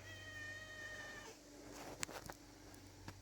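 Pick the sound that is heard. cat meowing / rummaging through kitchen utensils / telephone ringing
cat meowing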